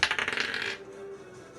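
Dice clattering and rattling across a table during a Dungeons & Dragons tabletop game, a quick burst of tumbling clicks that settles after under a second, fairly close and alone.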